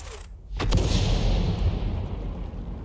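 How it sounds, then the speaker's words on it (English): An M41 HMC self-propelled artillery gun in a tank video game fires a single blind shot: a sudden loud boom that rolls into a long, rumbling echo and fades slowly. "It's going to be a blind shot."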